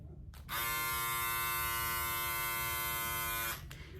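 A Remington PF7400 foil electric shaver switches on with a close, steady high-pitched motor buzz that holds evenly for about three seconds before cutting off, over a faint background hum.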